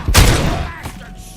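A single gunshot in the video game Robocop Rogue City, one loud close blast with a sharp attack and a fading boom, followed by a fainter second crack.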